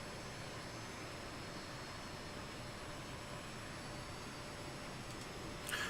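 A steady, faint jet-engine rush plays throughout, a hissing broadband roar from an aircraft in Microsoft Flight Simulator 2020 over South America, with no talking.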